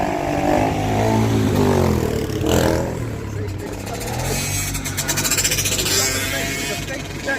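Motorcycle engine droning and revving nearby at a New Jersey camp, loud and continuous with pitch rising and falling, overlaid by people talking.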